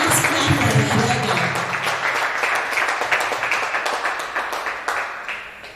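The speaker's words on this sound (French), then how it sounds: "Let's clap for the brother." A church congregation applauds for a brother at a bilingual service, a loud burst of clapping that starts over a voice and slowly thins out and fades.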